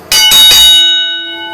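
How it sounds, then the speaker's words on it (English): A hand bell rung loudly and close at a wrestling event: two or three quick metallic strikes, then a clear ringing tone that slowly fades. "Glad you brought the bell."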